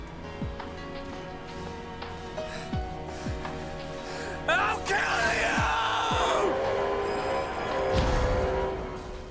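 A drawn-out, strained character scream from the video game Xenoblade Chronicles 2, rising into a loud sustained yell over game music with sharp impacts and clatter around it.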